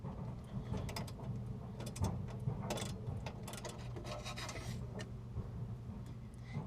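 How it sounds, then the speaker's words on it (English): A new furnace igniter is pushed and clipped into place, giving soft rubbing, scraping and small ratchet-like clicks. The handling sounds go on steadily, close and quiet, with no talking. "I'm going to put the new igniter in."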